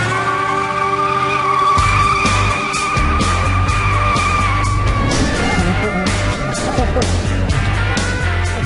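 Car tires squeal and skid loudly and continuously as the car slides out of control, with engine noise underneath and people yelling and whooping over it.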